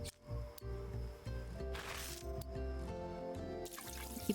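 Watering plants in the Hello Kitty Island Adventure video game: a watery splashing and pouring effect sits over a looping, tonal game music bed, with short bursts of spray.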